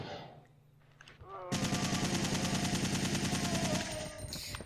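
Rapid automatic gunfire in Resident Evil 3 erupts loud and sustained after a quieter opening, with spent shell casings bouncing off walls under the bursts.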